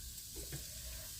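Sliced onions frying in a spoonful of hot oil in a pan, a low steady sizzle with a soft stirring scrape partway through, heard alone at fairly low volume.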